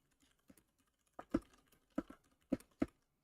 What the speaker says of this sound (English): I'll type the next question.